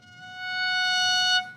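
A violin sustains a single clear F sharp, played with the second finger in fourth position, swelling gently and then stopping, alone and close.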